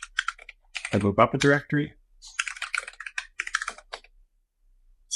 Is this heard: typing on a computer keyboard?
yes